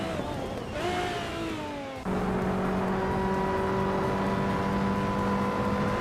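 Racing game engines whine at steady pitch, one car's tone sliding downward before a louder, sustained drone takes over as cars jostle for position, a continuous near engine roar with no voices.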